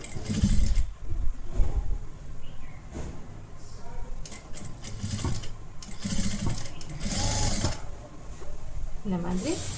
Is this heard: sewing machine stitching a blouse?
yes